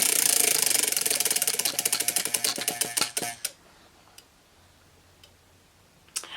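A prize wheel spins with rapid, loud ticking that gradually slows and spaces out until it stops after about three seconds, followed by a few faint clicks in near silence.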